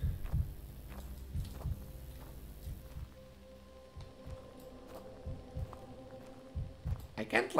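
A heartbeat sound effect in a scary video game: deep, muffled thumps pulse steadily at first, then fade under a low hum while someone talks.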